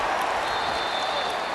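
A stadium crowd in College Football 26, a steady broad cheering roar that fills the whole moment at even loudness, with no clear talking.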